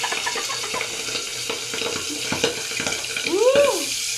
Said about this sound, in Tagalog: Tapos, Piniperito naman ngayon.